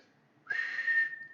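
A loud, piercing human whistle bursts in after a near-silent lead-in and holds steady at one high pitch until the clip ends.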